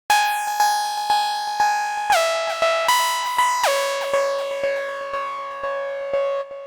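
A discoDSP Corona software synthesizer holds a bright, buzzy tone whose level pulses in a steady repeating swell from an LFO, with the pitch stepping to new notes a few times along the way.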